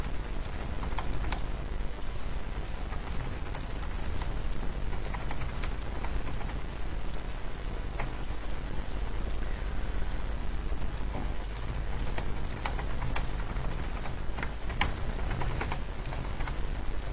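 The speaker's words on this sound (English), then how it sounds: "let's just type something in" Steady, rapid typing on a computer keyboard, with dense clicky keystrokes and brief pauses, heard close and fairly quiet against a faint hiss with no talking.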